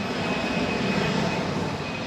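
Jet airliner engines roar steadily at Kansai Airport, heard from a terminal observation deck some distance away, a dense, continuous rumble with no talk over it.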